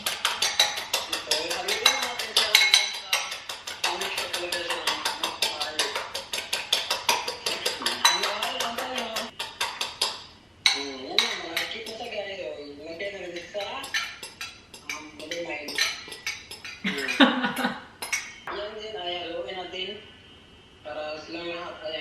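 Eggs with salt and pepper being mixed in a home kitchen, with clinking of utensils against a bowl and busy rhythmic stirring while someone talks throughout.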